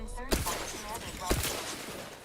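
Two sharp blasts from a grenade thrown through a window in a first-person shooter game, about a second apart, loud over continuous game noise and gunfire, with some talk underneath.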